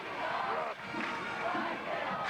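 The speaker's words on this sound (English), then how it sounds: "No, I mean, the crowd is so loud." A loud, dense crowd roars at a 1992 high school basketball semifinal, Pikeville vs. Johns Creek, in a packed gym. Shouting and cheering surge steadily throughout with voices blended into the din.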